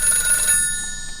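An electronic telephone bell rings loudly and steadily in a house, the shrill ringing holding for about half a second and then fading as it continues more quietly.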